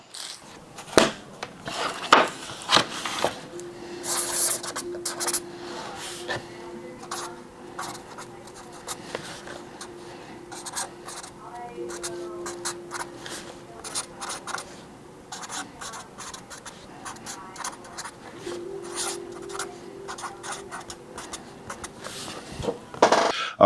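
A pen scratching on paper while books are signed, a run of soft, intermittent scribbling strokes with light rustling and handling noises between them.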